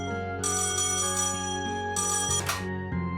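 A phone rings with an incoming call in the video game Trails in the Sky SC, giving two bright electronic bursts over steady background game music.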